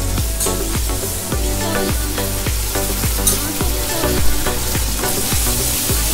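Green chillies and hung curd sizzling in a pan while being stirred, with a continuous hiss of frying and repeated sharp scraping strokes of a spoon against the pan, loud and close.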